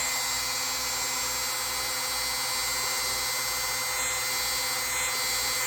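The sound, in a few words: power buffing a vintage Hammer Brand Barlow knife with rubbing compound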